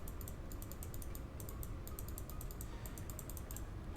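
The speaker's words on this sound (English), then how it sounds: "I'm literally just clicking because I don't know where the numbers are." Rapid clicking of a computer mouse during a game, as bursts of light, quick clicks in uneven runs over a low steady hiss. The clicks are faint and no one talks.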